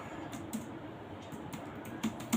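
Quick bursts of clicking keys on a computer keyboard, close and crisp, in short irregular clusters separated by brief pauses.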